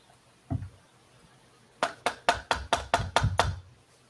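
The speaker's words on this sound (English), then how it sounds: "What if I knock on it?" Knocking on a wooden puzzle box: one soft tap, a pause, then a quick run of about eight sharp, hollow knocks, close and clear with no talk.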